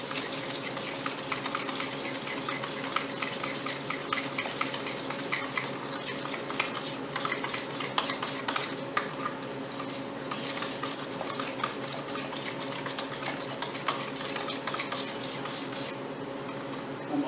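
Sour cream is stirred into a mixture, with a soft, continuous scraping and swishing of a utensil in a bowl, faint and steady throughout.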